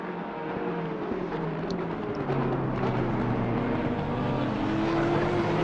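Nissan race car, number 888, in a sim racing event at Zolder, its engine a steady onboard drone that climbs gradually in pitch and loudness as it accelerates, with no talk.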